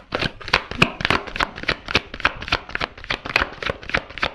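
Tarot cards shuffled by hand in a fast, steady run of crisp riffling snaps, close to the listener and with nothing else over them, while a few cards slip loose and drop out.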